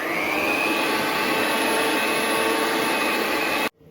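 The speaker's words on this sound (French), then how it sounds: "on va mélanger avec le batteur, mais fais attention" An electric hand mixer whirs steadily and loudly while beating cookie batter, holding a constant high motor whine close by before cutting off abruptly near the end.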